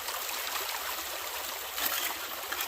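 Steady broadband rush of water flowing through a gold prospecting sluice packed with broken bedrock, ironstone and quartz gravel, a continuous close trickling wash with no talk.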